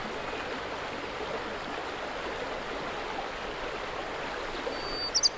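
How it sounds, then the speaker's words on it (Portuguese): Continuous rushing of a mountain stream in the Serra da Estrela, a steady broad wash of flowing water, fairly close and unbroken, with no voices. "À medida que descem a montanha, os cursos de água banham uma galeria de árvores ripícolas"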